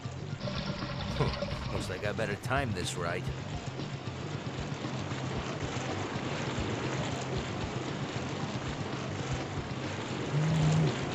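Water rushes and pours steadily through a level of the Spider-Man (2001) PC game, a dense continuous wash of flowing liquid heard throughout, with someone talking briefly over it and short game effects near the start.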